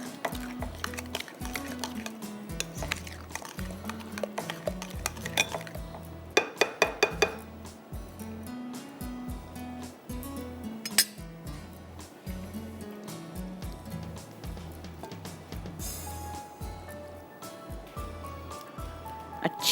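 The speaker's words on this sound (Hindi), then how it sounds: "अब इसको मैं मिक्स कर रही हूँ।" Spoon clinks and scrapes around a bowl while red chilli powder, salt, coriander powder, garam masala, turmeric, red onion and lemon juice are stirred into a marinade, with steady clatter and occasional sharper taps.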